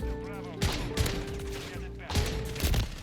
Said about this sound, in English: I hit him 3 times with this shotgun